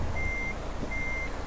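Reversing beeps from a truck backing under a trailer in Euro Truck Simulator 2, two long steady tones with a gap between them over a constant low engine rumble.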